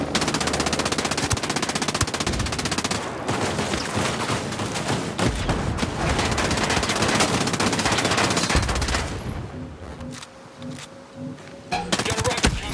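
Sustained automatic gunfire in Ghost Recon Breakpoint: dense machine-gun bursts rattle almost without pause, then thin out into scattered loud shots over a lull with a faint tone, loud and close, with no talking.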